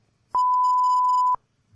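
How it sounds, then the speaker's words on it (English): A video game alarm sounds as a single steady electronic tone, clear and loud, holding for about a second before cutting off into quiet. "that alarm must be telling everyone to clear the halls"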